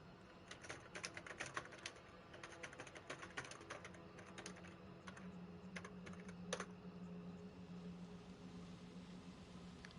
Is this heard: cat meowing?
no